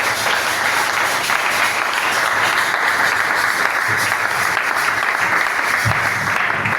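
A church congregation applauding: steady, dense clapping from many hands that fills the room without pause, loud and continuous.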